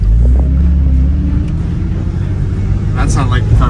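A Porsche's power steering pump whines and groans under a steady engine rumble as the wheel is turned, with brief higher squeals near the end and voices talking over it.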